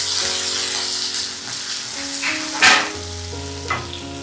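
Ginger sizzling and frying in a pan over a low gas flame while being stirred, with a steady close hiss and a brief louder scrape and sizzle burst partway through.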